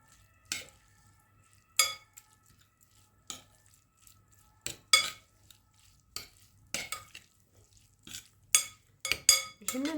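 A mixture being stirred in a bowl in a kitchen, with about a dozen scattered scraping and clinking strokes of a utensil against the side, close and fairly crisp, separated by quiet pauses.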